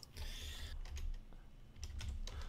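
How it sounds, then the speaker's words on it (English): Faint computer keyboard typing arrives in short clattering bursts with brief pauses, heard quietly in the background with no voices. "I hear somebody typing, by the way"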